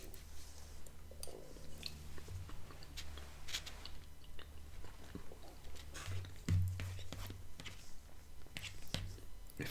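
Close, soft chewing of Bush's Baked Beans with bacon and brown sugar, with moist mouth sounds and occasional faint clinks of a utensil, steady and intimate throughout.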